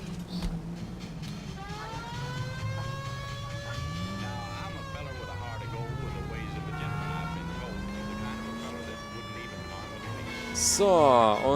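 Car driving in L.A. Noire with a steady engine drone that rises and falls in pitch, a police siren wailing over it, and a short burst of noise near the end.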